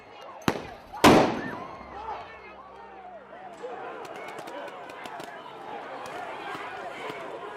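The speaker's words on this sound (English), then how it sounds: "A member of the Park Police SWAT team throws a sting ball grenade into the crowd." Two sharp blasts from sting ball grenades thrown by police into a protest crowd at Lafayette Square, the second louder and followed by a roaring tail, then shouting and crowd noise continue.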